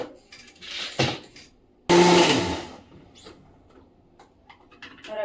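A kitchen mixer grinder grinding soaked rice and poha for dosa batter, running in short loud pulses: a brief whir, then a longer roaring burst that dies away, with clinks and rattles in between.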